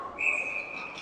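Referee's whistle at an 18U ice hockey game between the Raleigh Raptors and the NC Golden Bears: a single sharp, high blast rises over the rink's ambient noise and lasts about half a second before fading.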